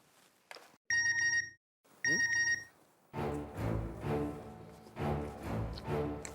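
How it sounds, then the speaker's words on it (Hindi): A mobile phone message alert rings out in two loud, bright electronic bursts at a home in a comedy sitcom scene, followed by background music. "पोपटलाल का मैसेज"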